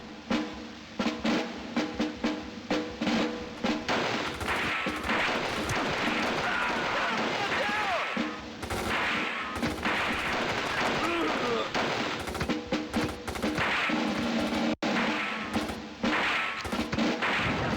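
Dense, continuous gunfire from the Army Men video game: rapid machine-gun bursts and crackling shots run almost without pause, with occasional heavier impacts.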